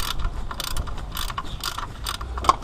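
A hand ratchet turns a 13 mm bolt on a Ford Ranger during restoration work, giving a rapid series of close, crisp clicking bursts with short pauses between strokes.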